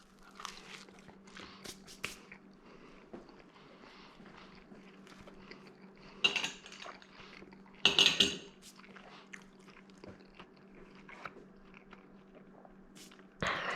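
Someone biting and chewing a no-sauce pizza topped with garlic, olive oil and mozzarella, quiet crunchy bites and chewing, with two louder crunches midway, over a low steady background hum.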